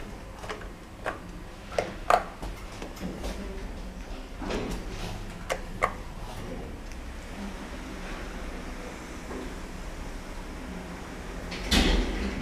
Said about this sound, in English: this lift has two sets of doors, unlike the last one, which only has one set of door.